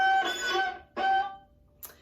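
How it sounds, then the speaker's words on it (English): A student viola in a beginner Twinkle lesson gives bowed notes with a thin, scratchy squeak as the bow catches the neighbouring A string, two sustained strokes followed by a brief high chirp, alone without talk. "students will say that they get kind of a squeaking sound that sounds something like this"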